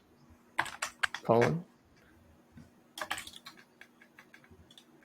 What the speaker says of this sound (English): If you backspace one time. And then type fix,